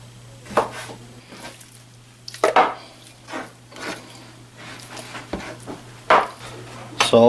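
Knife chopping chicken breasts into small chunks on a board, a handful of irregular sharp knocks scattered among softer slicing sounds, close and fairly loud, with no talking.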